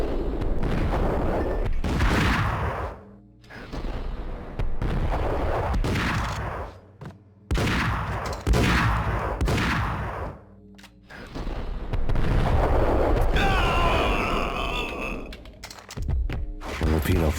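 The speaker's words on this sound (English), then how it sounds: "No longer will I be underestimating the sawed-off shotgun, because it ends up being able to reliably stun this junkie and punch his ticket." Sawed-off shotgun blasts in a video game, several heavy booming shots with long roaring tails that run into loud, dense game combat noise.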